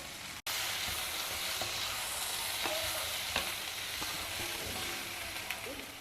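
Potatoes frying in oil in a pan on a low to medium flame, a continuous even sizzle with occasional light scraping and stirring clicks, heard on its own without speech.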